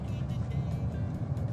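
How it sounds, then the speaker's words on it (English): A car drives by on a road. A steady, close engine and road rumble runs throughout the brief moment. "Now the car going by"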